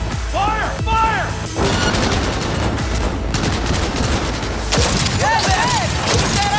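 Dense gunfire crackles in a Cyberpunk 2077 firefight, rapid bursts and heavy shots layered into a loud, continuous barrage with booming impacts, while voices shout over the shooting.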